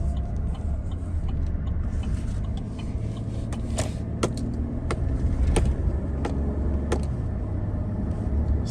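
A car is driven after a transmission fluid and filter change. A steady engine and road drone from inside the cabin runs throughout, broken by several sharp clicks and ticks, with no one speaking.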